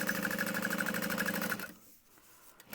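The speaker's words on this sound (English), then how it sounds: "So we're just going to press this down and top stitch." A sewing machine top stitches a thick fabric bag, running in a fast, rhythmic burst of needle strokes for about a second and a half before stopping abruptly, followed by faint handling noises.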